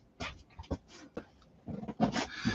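A dog whimpering at a door indoors, giving a few short, uneven whines and snuffling bursts that come close and moderately loud, with quiet gaps between them.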